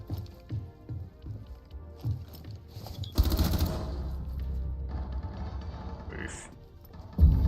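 MP5K submachine gun fire in Rainbow Six Siege, first a few short separate shots, then a loud sustained burst, followed by quieter game noise and one more sharp shot at the end.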